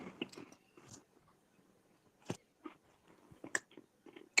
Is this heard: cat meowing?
no